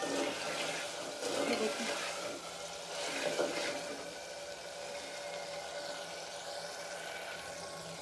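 Potatoes and peas fry in a pan, giving a steady, close sizzling hiss that swells and eases while a voice briefly speaks over it.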